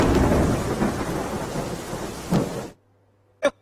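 Heavy rain pours in Dwarka during flooding, a dense, roaring wash that cuts off abruptly into near silence, then one short sharp burst follows.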